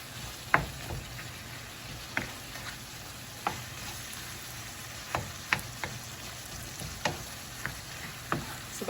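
Beef shawarma with tomato paste and onion sizzles steadily in a pan, with a low frying hiss broken by repeated scraping clicks of a utensil stirring and pushing the meat around.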